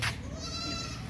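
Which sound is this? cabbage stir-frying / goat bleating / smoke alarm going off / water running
goat bleating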